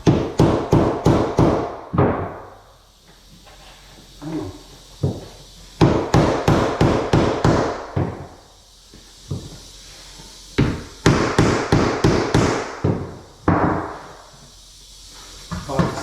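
Bursts of quick taps against the underside of a floating shelf being fitted into a tight space, close and sharp, each burst of about five knocks followed by a pause, with softer handling noises between bursts.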